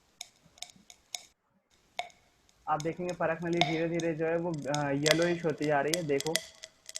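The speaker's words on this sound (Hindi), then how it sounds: "कुछ फूटने की आवाज आ रही है, फट फट फट फट।" Lead nitrate heated in a glass test tube gives faint, scattered crackling pops at first; a voice then talks steadily over the rest.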